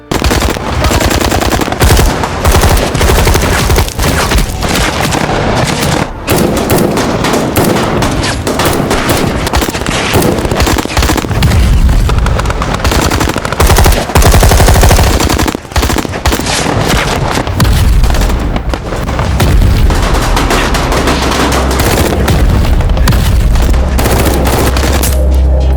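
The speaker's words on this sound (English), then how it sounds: "The yellow side's concentrated suppressive fire prevented the white side from moving forward even a single step." Machine guns fire in urban combat around a destroyed building during a Russian assault, loud sustained bursts and rapid overlapping volleys with heavy booms, relentless and close for the whole stretch.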